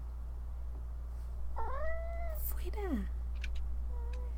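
A house cat meows twice in short, rising-and-falling calls, fairly close, over a steady low hum, with a brief spoken word from a person.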